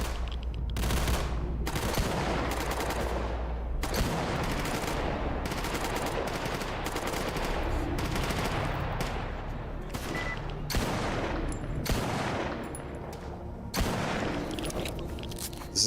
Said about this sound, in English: Where am I receiving fire from?